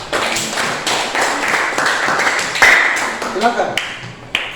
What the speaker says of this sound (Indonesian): kita berikan aplaus yang meriah untuk kelompok 5